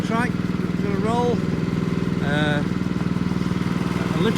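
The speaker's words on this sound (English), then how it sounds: "Right, let's get this engine started." Groundskeeping vehicle engine running, a close, loud, steady pulsing chug with even rhythm throughout, and someone talking over it.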